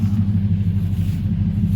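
Chevrolet C10 truck engine idling steadily after a cold start with the choke still on, a loud, continuous low rumble with no voices over it.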